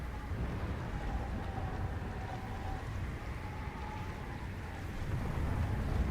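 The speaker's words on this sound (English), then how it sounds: "Oh, it's thundering again." Thunderstorm on the polar surface of the Subnautica: Below Zero game world, a steady low rumbling roar with wind and rain noise that swells slightly near the end.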